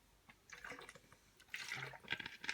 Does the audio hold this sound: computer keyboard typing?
no